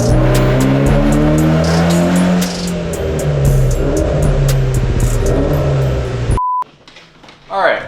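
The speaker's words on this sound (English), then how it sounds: "The car did maybe like 2 or 3 more pulls after that last clip that you saw" A fully built Subaru STI or Evo X revving hard on a dyno, a loud close engine climbing and falling in pitch in long pulls, then cutting off abruptly, with voices afterward.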